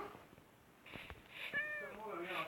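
Short game-style cat meows from a spawned cat, two or three tonal calls close together, with a voice talking over them.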